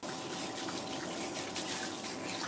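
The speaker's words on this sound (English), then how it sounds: "so I'm going to use cold water, okay? Cold water, and we're going to rinse" Steady, full rush of cold tap water pouring to rinse hair, close and continuous, with no talking over it.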